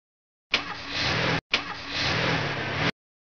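Cartoon taxi cab engine revving hard as it drives fast, two loud sustained bursts with a brief gap between them, heard alone.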